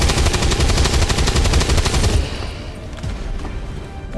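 Loud, rapid automatic gunfire in the video game XCOM 2: War of the Chosen, a sustained close burst of quick shots that stops abruptly halfway, leaving fainter background sound.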